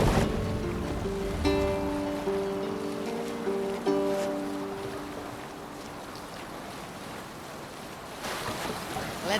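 A Viking longship sails across the sea in Assassin's Creed Valhalla, steady waves and rushing water against the hull with wind over it, plus brief tonal chimes early on and a swell of surf near the end.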